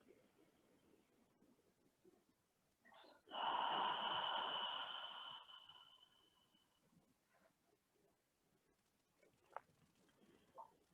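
A slow, deliberate exhale through the mouth during a relaxing shoulder yoga session, one long breathy rush lasting a couple of seconds and then fading, close and fairly loud against a quiet room.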